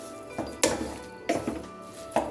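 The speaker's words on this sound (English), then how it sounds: "we're going to mix it with the spatula really well so that the potatoes are well coated with the masala which we have made" A spatula scrapes and clatters through chopped potatoes coated in masala in a pan for curd-tossed aloo, with three sharp metallic knocks spaced evenly amid softer stirring scrapes, close and clear.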